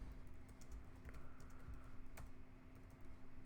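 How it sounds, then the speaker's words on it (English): Fingers type on a computer keyboard, soft, faint, rapid key taps in an uneven patter over a low steady hum, distant and quiet. "I typed in Mindstream."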